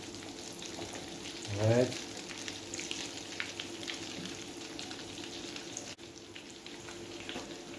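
Red pea balls frying in hot oil, giving a steady crackling sizzle throughout with a brief louder bubbling burst near the start; a voice speaks a word briefly.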